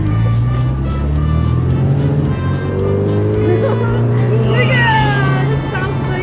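A classic Mini Cooper's engine drones steadily while driving in the Peak District, a close, continuous low hum with slight pitch shifts, and people talk over it throughout.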